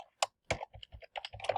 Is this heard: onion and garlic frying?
no